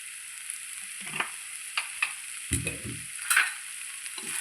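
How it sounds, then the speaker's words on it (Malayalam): Chicken thoran being stirred in a pan with coconut oil and curry leaves: soft scraping strokes and a low sizzle, with a few louder clatters of the spoon near the middle, no voices. "നന്നായി ഇളക്കി"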